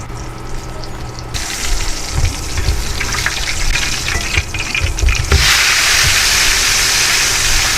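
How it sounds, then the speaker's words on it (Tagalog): Freshly cooked food keeps sizzling in a home kitchen, a loud steady frying hiss that swells partway through and stays broad and continuous, with faint handling knocks underneath. "Akin papakinggan yung niluto daw kung nasirit pa."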